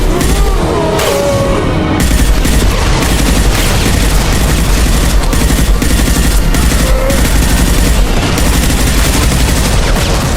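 Sustained heavy gunfire in the sci-fi shooter Mass Effect 2, with loud, dense automatic bursts and booming impacts running continuously throughout without letup.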